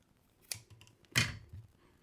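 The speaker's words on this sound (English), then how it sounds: "just take your tubing and cut off about 1/8 of an inch of that tubing" A small piece is snipped from soft plastic tubing for a fishing bait trailer hook: two quiet, sharp clicks close by, the second louder, with light handling noise in between and no talking.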